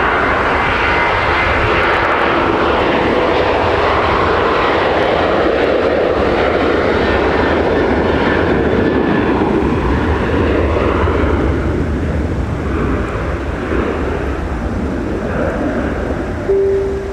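Delta 413 airliner at Minneapolis–St. Paul Airport during a winter storm, a loud sustained engine roar rumbling steadily throughout, mixed with wind noise, with no talk.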